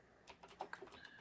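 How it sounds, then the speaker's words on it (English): Someone types on a computer keyboard, a quiet, uneven patter of clicking keystrokes at close range with no voices over it. "Sorry, I was typing something."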